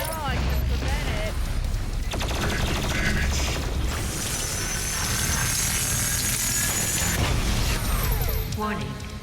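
The BFG 10,000 fires in DOOM Eternal, a loud continuous mechanical roar with ratcheting, clanking machinery and booming blasts that fill the whole stretch.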